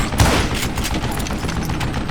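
Gunfire in the Call of Juarez: Gunslinger video game, a dense volley of shots right at the start followed by a continuous rattle of firing that stays loud for the rest of the moment.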